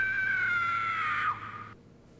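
A woman's high, sustained scream in the video game Corpse Killer holds one piercing pitch for over a second, then breaks off abruptly, leaving only faint background noise.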